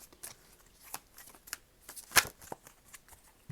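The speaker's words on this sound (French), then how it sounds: "Alors, je vais tirer 5 cartes." Playing cards riffled and shuffled by hand before five are drawn, a run of soft papery flutters and taps ending in one sharp, loud riffle burst, close and alone without talk.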